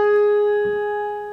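A piano octave on G sharp, struck in the right hand, rings out as one clear sustained tone that fades slowly on its own, with no talk over it.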